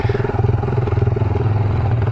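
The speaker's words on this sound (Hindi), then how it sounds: "बाइक को संभालना पड़ता है, इतना पथरीला रास्ता है कि टायर फिसल जाता है" Motorcycle ridden slowly over a rocky, slippery off-road forest trail, its engine chugging in a steady, close, loud pulsing rhythm throughout with some clatter.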